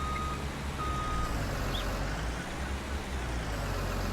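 A wheel loader in Farming Simulator 19 sounds a couple of short, faint reversing beeps over a loud, steady diesel engine rumble.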